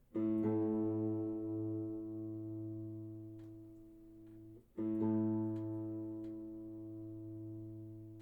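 A low E guitar string, tuned slightly flat against the A string, rings out and sustains, then is plucked again, the pitch wavering slightly as it is adjusted toward another ringing note.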